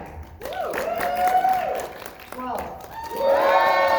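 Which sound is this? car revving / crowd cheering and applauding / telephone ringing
crowd cheering and applauding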